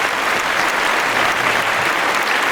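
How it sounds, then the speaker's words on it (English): A studio audience gives a sports talk show guest a loud, continuous burst of applause, with thick clapping sustained evenly throughout. "Let's give our guest a little round of applause,"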